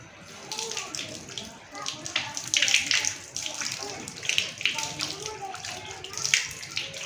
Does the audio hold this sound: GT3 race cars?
no